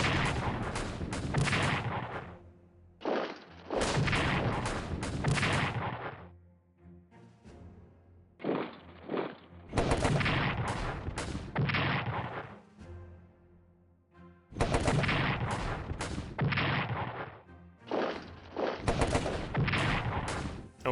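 Rail cannon artillery in the WWI strategy game Strategic Command WWI, with repeated loud booming shots in clustered bursts separated by short gaps, heard alone without talk.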